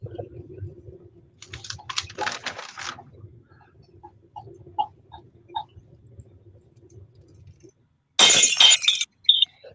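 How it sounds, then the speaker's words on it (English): A glass bottle smashes with a loud, bright shattering burst near the end, after scattered quieter clatters and low rumbling background noise. "it's a glass bottle smashing, breaking 3 times"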